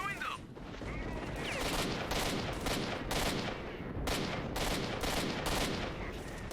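Sustained gunfire in S.T.A.L.K.E.R. Shadow of Chernobyl, dense rattling bursts of automatic fire with sharp repeated shots clustered toward the end, loud and continuous, with talk mixed in beneath.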